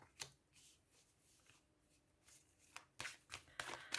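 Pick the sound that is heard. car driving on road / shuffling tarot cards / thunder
shuffling tarot cards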